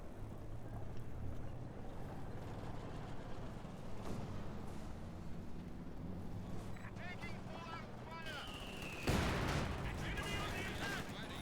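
Mortar blasts and gunfire from a Company of Heroes 2 battle sound as scattered bursts and a loud impact near the end, over a steady low rumble, with a voice speaking throughout.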